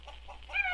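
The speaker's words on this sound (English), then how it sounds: "There's a chicken running around in here someplace." A chicken clucks somewhere nearby in a room where a goat is also kept, a short run of soft, rising clucks that grows slightly louder toward the end.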